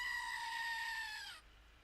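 A screaming goat lets out a single loud, sustained bleating yell for over a second that wavers and then drops away into quiet.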